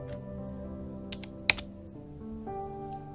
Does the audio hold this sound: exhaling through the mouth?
no